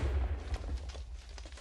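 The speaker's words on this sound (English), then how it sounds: "Okay, now it does a little bit of explosion." A low, rumbling blast from a lightning-magazine shot fired from Crescent Rose in Minecraft with a RWBY mod, a heavy boom that rolls and fades across the short moment with no voices.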